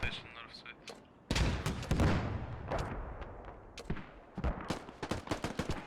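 Shots traded in the tactical shooter Squad during a competitive match: sharp gunshots and heavier rocket-like bangs crack out in irregular clusters, loud and near, with voices heard underneath.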